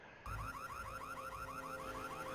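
Alarm triggered in the PS1 game Rainbow Six, a steady warbling siren that cycles rapidly up and down in repeated sweeps, moderately loud and continuous, with no voices over it.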